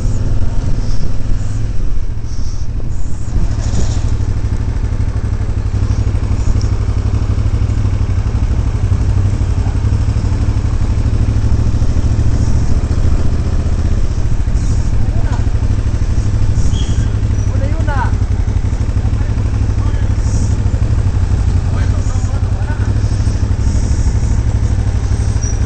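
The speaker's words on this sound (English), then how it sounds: "Oh, 2 adventure bikes, cool." Two adventure motorcycles idling close by, a steady low engine rumble with some clatter that runs on without letup, loud, with faint background sounds over the top.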